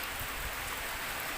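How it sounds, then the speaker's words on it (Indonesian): Steady rain pours down during a catfish harvest as a dense, even hiss of drops on surfaces that fills the whole stretch without a pause, with no voices over it. "Karena alhamdulillah hujan ini membawa berkah lagi buat kita"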